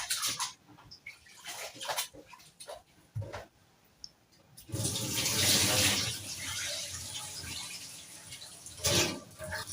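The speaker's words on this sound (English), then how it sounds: "as I continue cleaning my rice" Tap water runs steadily while rice is rinsed by hand in a kitchen, a full splashing rush that swells and fades after a few scattered clicks and knocks, close and fairly loud.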